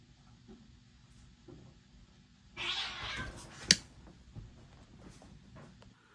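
Cats fighting give a brief, harsh hissing yowl with a sharp snap, loud against an otherwise quiet room with faint low rumbles and small knocks.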